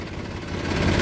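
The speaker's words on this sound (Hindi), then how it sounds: "ये जो है अब खेत में मैं इसे घुमाऊंगा ट्रैक्टर को" A tractor engine idles with a low, steady rumble and throbbing knock, close by, swelling slightly louder over about a second.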